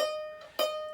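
A single bowed note on a violin's E string sounds steadily, with a brief scratchy bow change partway through before the tone continues.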